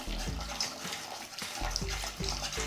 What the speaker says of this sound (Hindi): आपको यहाँ 2 लीटर पानी डाल देना है